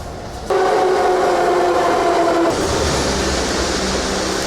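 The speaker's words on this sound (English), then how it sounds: "now we are going to be hopping on the metro to go in that direction" A Warsaw metro train running, with a steady loud rumble and a whining motor tone that shifts as it moves, heard close from inside or beside the car.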